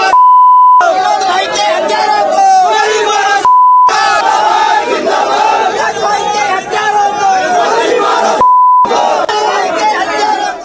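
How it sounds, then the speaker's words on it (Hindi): Protest crowd in the street demanding action over the murder of a BJP leader, chanting Jai Shri Ram in loud rhythmic unison, shouted slogans repeating close and strong, broken briefly by short beep tones. "जय श्री राम के नारे लगने शुरू हो गए"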